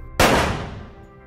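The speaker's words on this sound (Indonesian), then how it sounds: "Peluru pun menderu" A single loud, close gunshot cracks sharply and rings out with a long fading tail, one rifle shot fired at a man during a 1908 Padri war uprising against Dutch soldiers.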